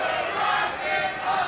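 Wrestling arena crowd at a Ring of Honor women's title match, a broad sustained roar of cheering voices, steady and fairly loud throughout with no single voice standing out.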